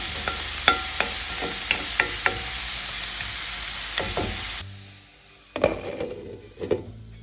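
Clove beans stir-fried on a low flame with no water added, a steady close sizzle punctuated by repeated spatula scrapes and taps, then the frying hush drops away leaving a few clattering stirs.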